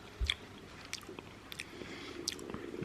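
Someone takes a mouthful of runny macadamia nut butter, with close, soft wet smacks and small squishy bites scattered across a few quiet seconds.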